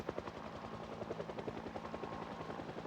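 Helicopter in the video game Project Zomboid, a steady rhythmic rotor chop with a low engine drone, loud and continuous throughout with no talking.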